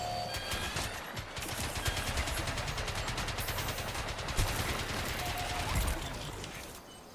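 Turrets in the video game Marathon fire rapid, sustained automatic bursts, a dense rattle of shots that runs continuously and stays moderately loud throughout.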